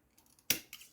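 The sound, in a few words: trimming a stake while weaving wicker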